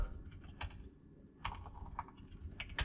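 Scattered keystrokes on a computer keyboard while working in an Excel spreadsheet, with irregular bursts of clicks and short pauses, quiet and close with no talking.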